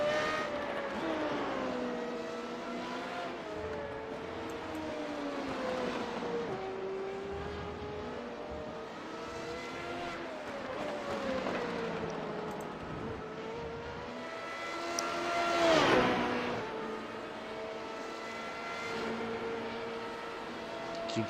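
Onboard a Formula Renault 3.5 race car lapping Monza in Italy, the engine screams close and constant, with pitch rising through the gears and dropping under braking, then climbing again.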